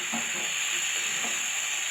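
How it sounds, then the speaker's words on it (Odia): Vegetables fry with spices in a pan, giving a steady sizzle with a few soft stirring scrapes and no voices. "ପରିବାକୁ ଏବେ ମସଲା ସହିତ ଭଲରେ ଭାଜିଦେଲି।"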